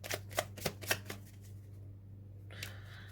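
Tarot cards shuffled by hand for a reading, a quick run of four or five crisp riffling bursts, close and clear, then quiet with a faint rustle near the end.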